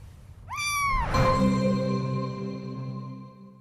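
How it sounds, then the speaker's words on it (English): A cat meows once in a long, drawn-out rising and falling call from a film trailer, loud and close, with the tone trailing off over a few seconds and no talk. "I got a cat."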